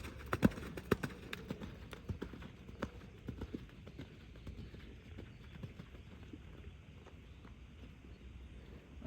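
Horse trotting during a riding lesson, hooves clip-clopping in a steady, fairly close rhythm that thins out toward the end, with light wind noise and no talk.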